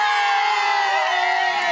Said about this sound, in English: greeted by crowds wanting to catch a glimpse